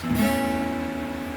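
A single guitar A note rings out and sustains, steady and moderately loud with nothing else playing.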